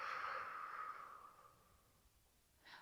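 A long, steady breath exhaled during a Pilates exercise, close and clear, fading gradually over about two seconds, followed by a short fresh breath near the end; no speech.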